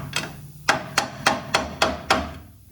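Six loud, evenly spaced hammer wallops ring off the metal control arm bushing of a 2007 Chevy Silverado, each with a short metallic decay, close to the mic.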